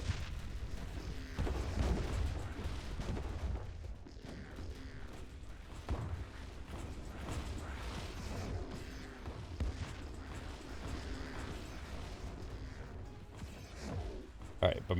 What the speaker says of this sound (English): bombardment will wipe out troops as well as all the defenses